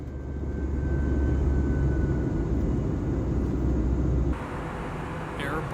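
A 10-year-old Thai Airways Airbus A320 climbs out of Singapore, its engines a loud, steady cabin roar that suddenly drops to a softer hum near the end.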